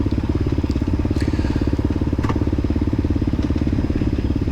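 A 2023 KTM 350 XC-F four-stroke dirt bike races through a hare scramble, its engine a steady, loud, rapid buzzing drone close by with a few crackles and clatters from the trail.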